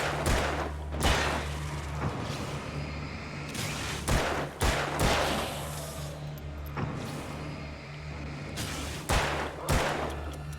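Repeated gunshots blast in bursts from Alan Wake, with loud sharp cracks spread across the stretch over a steady low engine-like hum, no talk.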